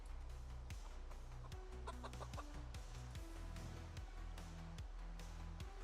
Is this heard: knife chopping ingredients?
no